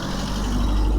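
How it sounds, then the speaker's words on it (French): A car passes outdoors, a steady low rumble of road traffic filling the whole second at moderate loudness, with no voices over it. "Désolé pour la voiture qui passe."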